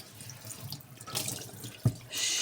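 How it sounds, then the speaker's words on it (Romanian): Tap water runs into a kitchen sink while a pot lid is washed, a continuous splashing rush with a brief clunk of the lid near the end and the stream growing louder. "Trebuie să-mi spăl un pic capacul ăsta"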